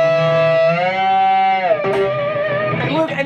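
A sustained distorted electric guitar note on the B string held steady, then overbent sharply and warbling into a strained, wobbling pitch with noisy string scrapes.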